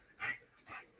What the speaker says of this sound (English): These puppies are being wild.